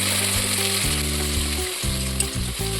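A paste of ginger, garlic and dried chilli fries in hot oil in a pan for a Bombay duck fish curry, giving a loud, continuous close sizzle with light stirring.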